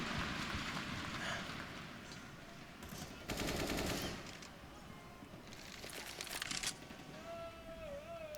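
Automatic rifle fire rattles in Counter-Strike on the Train map during a professional match, rapid bursts of shots fairly distant and layered over a steady background wash, with a few louder volleys.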